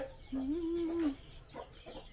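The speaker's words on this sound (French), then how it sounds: "Ça, c'est le poulet du village." A village chicken gives a drawn-out, rising cluck followed by a couple of shorter clucks, close and moderately loud against quiet surroundings.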